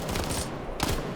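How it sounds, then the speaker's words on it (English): Dense, rapid bursts of MG3 machine gun fire in a video game match, loud and continuous with a brief lull before another burst near the end. "That MG3 is just tearing people apart."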